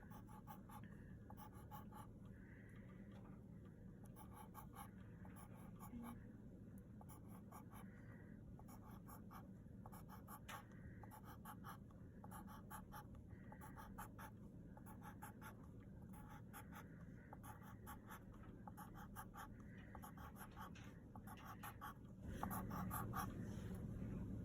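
Pencil scratching steadily across paper while drawing bills for a math problem, a continuous soft scraping with short rhythmic strokes, close and fairly quiet, no talking.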